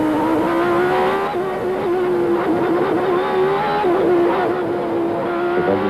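McLaren Honda Formula 1 car at the 1990 Mexican Grand Prix at Hermanos Rodríguez, engine screaming at high pitch with rapid throttle blips and dips through corners, loud and continuous with no talking.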